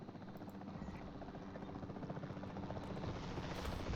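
The capture team helicopter in Jurassic World Evolution drones with a low, steady rotor throb that grows slightly louder, faint and alone without talk.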